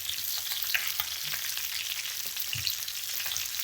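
Flipped chicken thighs fry in a pan, giving a steady, busy crackle and sizzle with fine spitting pops throughout, close and moderately loud, with a faint knock of a utensil near the end.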